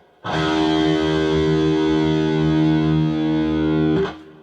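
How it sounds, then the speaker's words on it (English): A single low E electric guitar string, tuned down a half step, is plucked and rings out, sustained and slightly distorted for about four seconds before being muted. "So your low E string is going to sound like this."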